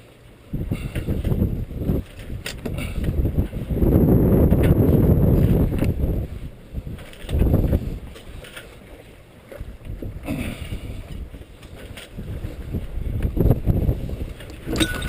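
A sailing boat moves under sail with continuous rushing water and wind noise that swells and fades in long surges, loud and close, with no voices.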